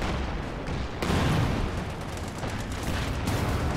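Artillery fires during a Company of Heroes 2 match: heavy booming blasts, with a sharp report near the one-second mark, rumble over a dense, continuous battle din. No voices are heard.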